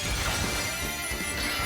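A glass Poké Ball shatters in the video game Pokémon Scarlet, a loud, dense crash of breaking glass that fills the whole moment without letup.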